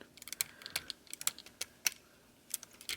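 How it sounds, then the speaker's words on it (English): Plastic parts of a FansToys FT-31C Spoiler transforming toy figure click and snap as a leg is folded down, a string of sharp, close, irregular clicks and taps against near silence. "You're going to fold this down and move this to the side like this."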